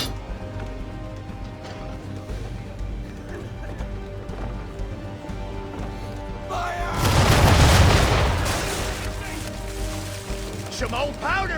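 Ship cannons firing at an enemy vessel in Assassin's Creed III, with a single heavy booming blast rolling out midway over a steady background of ambient game sound and music, then fading back.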